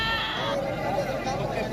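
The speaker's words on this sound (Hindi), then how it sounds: "ये जैसे भेड़ खड़ी हुई ना, ये आप चेक करें" Sheep bleating among the pens of a livestock market, a wavering call over steady crowd noise and background chatter close by.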